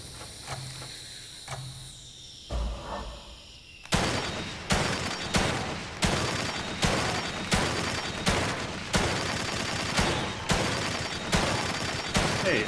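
Rapid bursts of gunfire from The Evil Within 2, played on PC, after a quieter stretch: from about four seconds a steady run of sharp, loud shots repeats roughly every second with mechanical clicks between them.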